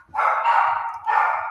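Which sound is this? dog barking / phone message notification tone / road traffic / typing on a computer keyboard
dog barking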